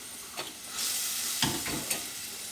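A spoon stirs a simmering bean curry sauce in a pot, with scraping swishes over a constant bubbling sizzle and a couple of sharp knocks against the pot.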